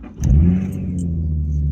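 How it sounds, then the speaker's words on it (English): A Nissan 350Z convertible's V6 engine cranks and catches at about 0.2 seconds, then settles into a steady, loud, low idle rumble close by, with no talk over it. "We have to clutch in to start the car"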